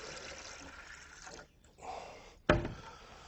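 Water tinted with food coloring pours into a container as a faint, steady liquid wash, broken by a brief pause and then a sharper splash near the end; no talking.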